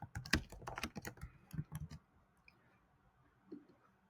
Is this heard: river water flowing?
no